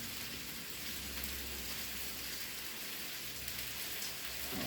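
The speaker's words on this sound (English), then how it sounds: "Just rolling it around in the skillet" Chicken pieces sizzle and crackle steadily as they are rolled around in a hot skillet, a continuous close frying hiss with no talk.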